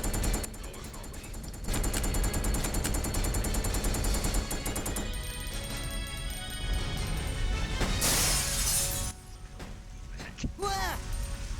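Rapid bursts of gunfire from the video game Resident Evil Code Veronica X, loud and dense through the first half, then crashing impacts and scattered shots alongside game sounds and voices.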